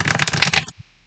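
Tarot cards riffle in a quick rapid shuffle for about two-thirds of a second, close and crisp, ending with a soft tap and then silence.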